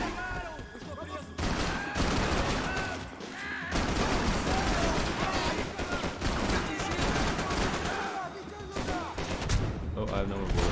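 Dense video-game gunfire fills the clip, with continuous rapid bursts and volleys at steady high loudness, a machine-gun-like fusillade running throughout with voices faintly mixed under it.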